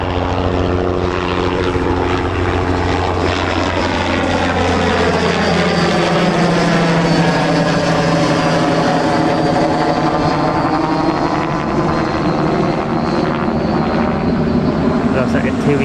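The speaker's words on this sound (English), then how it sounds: "There's that helicopter going back out again" A helicopter leaving Newcastle Airport holds a loud, steady rotor and engine drone with a pitch that slowly sweeps down and back up as it passes. Someone talks over parts of it.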